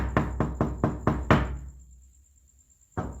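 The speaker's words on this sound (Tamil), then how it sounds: "இது யாரு கதவை தட்டிட்டே இருக்குது." Six sharp knocks on a door come in a steady, fairly quick series, then the room goes quiet for over a second before two more knocks start again near the end.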